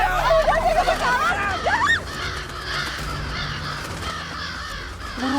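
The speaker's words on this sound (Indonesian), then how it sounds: "Burung gagak ya." Several harsh crow caws ring out over a busy outdoor scene, repeated in a loose rhythm during the first two seconds and fading into a continuous babble of background noise and distant voices.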